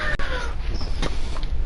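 A pet cat lets out a short, strained meow over a noisy background, close by, with a second faint cry following.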